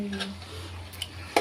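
A spoon stirs chicken with chili powder in a pan, giving light scraping and clinks with soft sizzling underneath and a sharp metallic knock near the end, fairly quiet.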